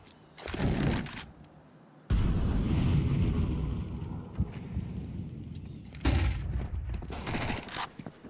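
Counter-Strike 2 gunfire, AK rifle and P250 pistol, at a PGL Bucharest 2025 quarter-final match, with loud bursts and sustained firing, a brief sharp shot cutting through, then another dense burst.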